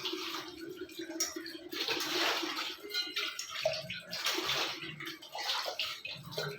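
Running water splashes over dishes rinsed in a kitchen sink, a continuous gurgling stream with bursts of heavier splashing and clatter, close and moderately loud with no talk.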